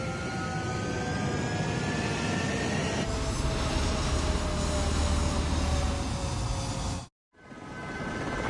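Military jet aircraft in the Ace Combat 7 video game roar steadily through a takeoff, a loud continuous engine rush with rising tones, cutting to silence near the end before the roar resumes.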